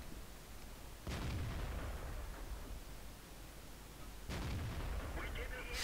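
Tank cannon shots from a T-54 in the game World of Tanks, two heavy booming blasts a few seconds apart, each followed by a rumbling decay over constant engine noise.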